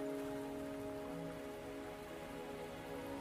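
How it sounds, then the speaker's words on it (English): Steady rain patters down in the video game Wuthering Waves, a continuous, even hiss with faint tonal music lines running beneath it and no voices. "Are you trapped here by the rain?"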